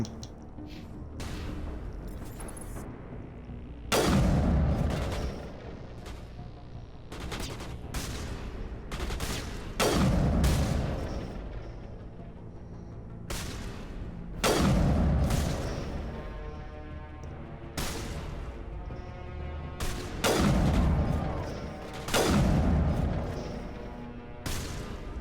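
Repeated bursts of heavy gunfire in a hunting game, many rounds fired in several loud volleys with brief gaps between them, close and dominant throughout.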